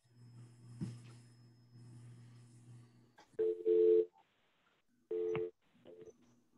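An office phone dials in to a meeting: after a steady hum, bursts of loud touch-tone beeps sound in uneven groups with short gaps, alone and close.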